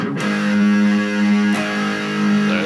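An electric guitar strums a distorted power chord rooted at the 4th fret, with two heavy strums ringing out loud and close, the second cutting in partway through the sustain.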